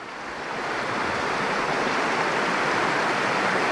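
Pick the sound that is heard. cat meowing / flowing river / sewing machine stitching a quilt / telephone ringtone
flowing river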